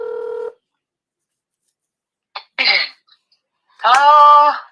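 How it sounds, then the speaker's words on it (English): A short electronic telephone dialing tone beeps once, followed by silence, a throat-clearing cough and a loud, drawn-out vocal sound. "Dialing."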